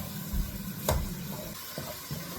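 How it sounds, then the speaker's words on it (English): Pepper, curry powder and a seasoning cube fry in a pan, giving a soft, continuous sizzle broken by a few light stirring scrapes. "Stir, stir, stir, and allow it to fry."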